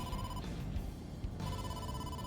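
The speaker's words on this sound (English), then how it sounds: "Date, incoming call from the boss." An incoming phone call rings in the video game AI: The Somnium Files, a steady electronic tone that drops out briefly and then resumes over a dense, loud background.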